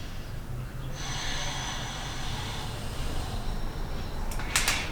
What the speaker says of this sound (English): One more nice big breath.